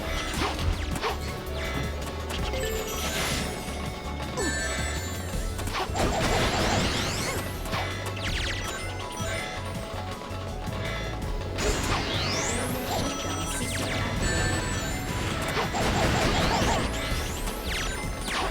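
Repeated glass smashing in the video game Sonic P-06, bright shattering crashes over constant game music and mechanical effects, with swooshes throughout; no talking.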